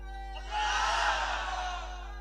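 A large crowd at a Bangla religious waz gathering roars a takbir in unison, one loud sustained collective shout rising after a brief pause and fading slowly over a steady low hum.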